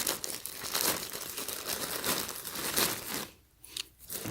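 A plastic poly mailer bag holding a tracksuit is torn open by hand, with close crinkling, crumpling and ripping bursts over several seconds before a brief quieter pause and a final rustle.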